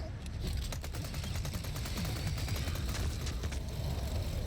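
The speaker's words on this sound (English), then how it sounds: "be careful with the brute that will start shooting at you" Rapid automatic gunfire from a brute enemy in the Resident Evil 4 Remake video game, a steady stream of fast shots over a heavy low rumble, loud and continuous throughout.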